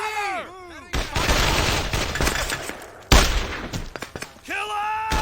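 Dense bursts of rifle and machine-gun fire from the World War II shooter Brothers in Arms: Hell's Highway, loud and close, with a heavy blast partway through and voices shouting around the battle.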